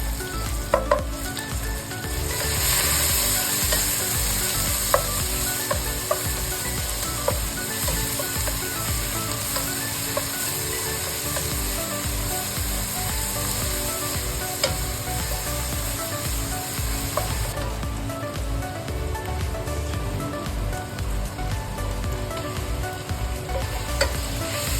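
Onions frying in a pan for chicken curry, a steady loud sizzle with crackling pops and occasional stirring clatter, continuous throughout with no talking.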